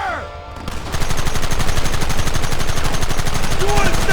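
Dense, rapid gunfire from many weapons erupts in a Red Dead Redemption shootout, loud and sustained after a short lead-in, with a voice shouting over it.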